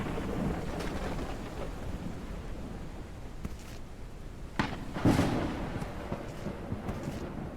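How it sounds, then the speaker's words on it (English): Rumbling thunder and lightning cracks from a storm in the survival video game Forever Skies, with a low continuous rumble and a few sharp louder strikes near the middle, heard with no talk over it. "of course we're higher up, so the storm lightning is going to hit us"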